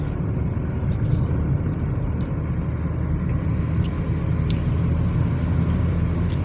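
A car drives along the coastal road from Ballintoy to Ballycastle in Northern Ireland, giving a steady, loud rumble of engine and road noise that runs unbroken throughout.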